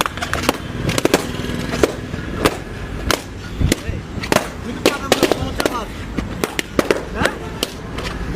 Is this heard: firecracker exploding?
yes